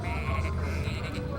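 A sheep bleats in the video game Tak and the Power of Juju, a single loud, wavering cry that fills the whole brief moment.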